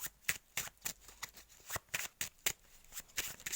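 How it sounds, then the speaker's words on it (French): Oracle cards from a Secrets des Bois deck are shuffled by hand, a quick run of crisp riffling flicks and soft slaps in an uneven rhythm, close and clear with no talk, a few cards slipping loose. "il y a déjà des cartes qui tombent"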